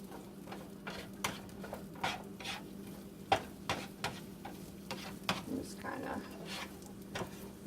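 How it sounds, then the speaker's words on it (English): Green peppers and red onions frying in coconut oil in a pan, a soft steady sizzle under repeated light clicks and scrapes of stirring, close and fairly quiet. "So I'm just going to put these right in to the coconut oil."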